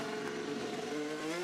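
An IndyCar race car engine revs at the St. Petersburg street circuit during practice, a high sustained whine with steady harmonic tones that shift slightly in pitch. The engine noise runs continuously and nobody speaks over it.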